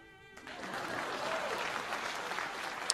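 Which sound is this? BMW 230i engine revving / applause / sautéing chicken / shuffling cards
applause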